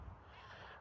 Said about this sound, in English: Can you hear the seagulls?